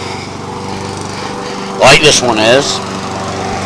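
A Honda riding mower with a rear-mounted engine runs at a steady, even drone, close by and fairly loud, while someone talks over it for a moment.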